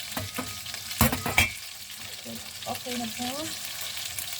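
Chicken frying in a pan crackles with a steady sizzle, punctuated by a couple of loud clattering stirs, while a person speaks briefly over it.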